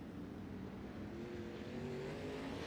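Dirt track race cars at Charlotte during a 100-lap double-points feature make a dense, continuous engine roar, with several motors blending and pitch rising slightly as the pack runs on.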